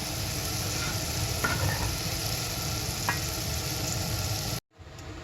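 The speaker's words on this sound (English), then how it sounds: "We're just going to stir those around, soften them up a little bit" Vegetables are stirred around in a pan with bacon fat, a steady close sizzle with faint scraping of the utensil before a sudden cut to quiet.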